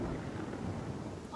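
Thunder rumbles steadily through a fantasy game's battle scene in Pathfinder Kingmaker after a lightning strike, a dense, continuous low roll with faint rain-like hiss and no distinct crack, holding evenly throughout.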